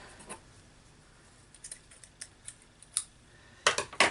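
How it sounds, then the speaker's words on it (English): Scissors snip through fabric while a piece is cut for a dress bodice, with a scattering of quiet, close single clicks that builds into a quick cluster of louder cuts at the end. "I'm going to cut a piece of this out. I'll just cut it a little bit wider than the actual bodice."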